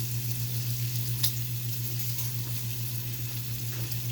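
Two eggs sizzle steadily in a hot frying pan, a constant crackling hiss with a low steady hum underneath and one brief sharp tick partway through, no voices.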